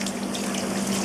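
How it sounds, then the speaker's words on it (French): A thin stream of tap water runs steadily into a sink while squid is rinsed in a cooking class, a soft, constant hiss with a faint hum underneath and no talk. "Petit filet d'eau, voilà."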